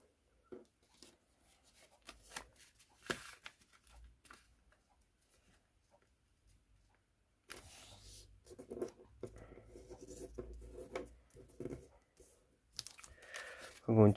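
Paper folded into an origami music stand: soft, close crinkling, creasing and rustling, quiet and intermittent at first, then a denser stretch of crackling paper handling, with a voice speaking at times.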